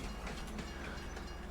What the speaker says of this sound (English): Yeah, watch the train, right?